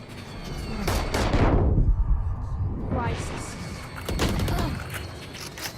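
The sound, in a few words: gunfire in Valorant video game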